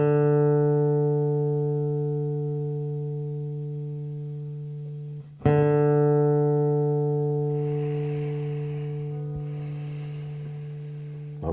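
The fourth string of a steel-string acoustic guitar rings out in a long sustained tone, is plucked again midway, and rises slightly as the machine head is turned, with faint handling noise late on.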